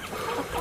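A homestead chicken gives a short, close cluck, a single brief burst of hen chatter with no other sound around it.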